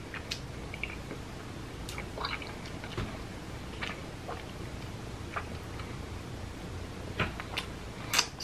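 Someone chews Filipino lanzones fruit close to the mic, with soft wet squishes and small clicking bites at irregular moments, working carefully around the seeds; the chewing is otherwise alone with no talk.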